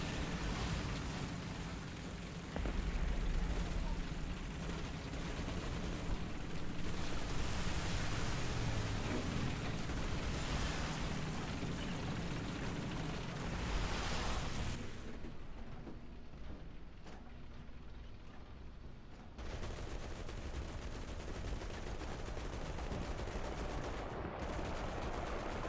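Tank combat in War Thunder with British tanks: a loud, sustained wash of gunfire and rumbling blasts that thins out midway, then returns as a dense, noisy roar with a few sharp bursts, and no talking.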